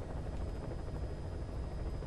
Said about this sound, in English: the reason why we're in this helicopter right now